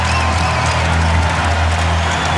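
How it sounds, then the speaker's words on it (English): Arena crowd at the Target Center cheering during a Minnesota Timberwolves basketball game, a dense, steady roar of voices and applause with no single voice standing out. "the Target Center crowd getting into it"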